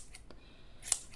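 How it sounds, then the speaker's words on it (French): Scissors snip once through small pieces of yarn while finishing a crocheted shawl, a single sharp close cut after a few faint ticks in an otherwise quiet room. "moi je vais couper tous mes petits morceaux"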